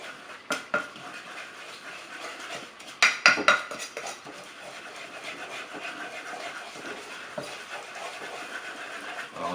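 Utensil scraping and clinking against a pan while caramel for pineapple chicken is stirred, with a few louder metallic knocks early and a steady, lighter scrape of stirring after, close and without talk.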